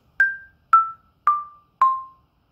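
Orff xylophone struck with mallets on the note C, four bright, identical wooden strikes evenly spaced about half a second apart, each quickly decaying, close and clear in otherwise silent surroundings.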